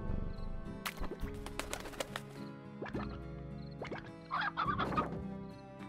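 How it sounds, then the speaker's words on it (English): Chicken launched in the video game Slime Rancher, with game-style clucking and bird calls over a dense background of music and effects, a brighter burst of squawks near the end. "Just shoot a chicken out."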